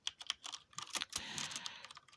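Rapid keystrokes rattle across a worn-out computer keyboard that is breaking down, with arrow keys gone unreliable after a spill; uneven clicking bursts close up, then a denser run of typing, no voices.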